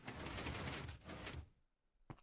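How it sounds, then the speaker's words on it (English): A Minecraft redstone piston door opens in game with a broad, loud whooshing mechanical rush lasting over a second, a brief quiet gap, then one short final thunk. "So now we have half of our piston doors open."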